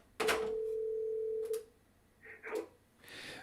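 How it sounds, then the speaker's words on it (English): A desk phone extension on an office VoIP system rings with one steady electronic tone lasting over a second, followed by shorter beeps and faint clicks, close and clear with no talking. "4001 is calling 4000, so 4000's ringing."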